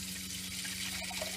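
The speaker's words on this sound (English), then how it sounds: "Water comes on." Steady hiss of water running from a bathroom sink faucet with a diverter, a continuous close stream with a low hum underneath and slight splashing changes near the end.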